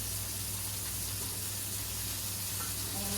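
A pork chop sizzling steadily in a frying pan, a dense continuous hiss and crackle heard close by without pause.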